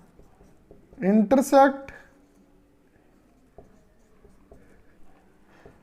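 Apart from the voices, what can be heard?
writing on a board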